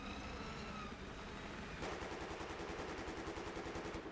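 Explosive-bullet gunfire in a video game, a fast automatic burst of rapid evenly spaced shots that starts about halfway through and runs to the end, preceded by noisy game ambience.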